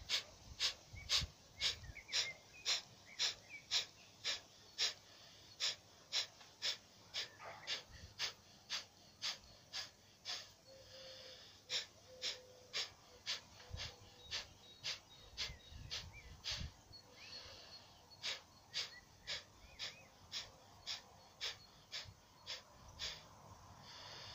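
Bhastrika bellows breathing in yoga: rapid, forceful inhales and exhales in a regular rhythmic series of sharp bursts, close and clear, with a brief pause partway before the pumping resumes.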